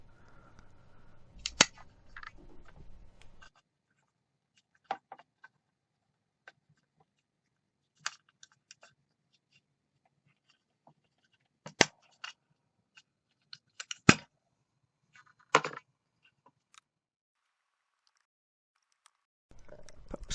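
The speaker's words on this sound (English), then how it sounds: "it's actually easier to just snip the legs on the top and then just try and break off the capacitor" Wire cutters snip the legs of capacitors on the circuit board of a Davis Vantage Pro weather station, sharp isolated clicks and snaps spaced irregularly across long quiet stretches, with brief handling rustle at the start and end.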